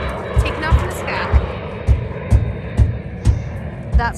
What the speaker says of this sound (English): And an aeroplane taking off in the sky.